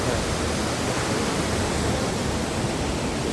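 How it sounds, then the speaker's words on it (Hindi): A scenic mountain waterfall on the Spiti route from Kalpa to Tabo gives a constant, even hiss of falling water. The steady broadband roar is heard alone, without voices. "ये है कोई सुंदर झरना"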